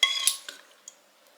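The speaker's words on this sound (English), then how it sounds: "Just going to stir this up so the hot butter, it's cooled down a bit" Hot butter being stirred into eggs in a bowl produces a couple of quick metallic clinks and scrapes of utensil against the bowl, close and brief, fading into silence.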